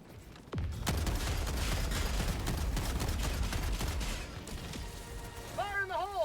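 Heavy orbital strike barrage in Helldivers 2, a sudden loud blast followed by sustained rumbling explosions and crackling gunfire-like bursts, with game voice chatter underneath.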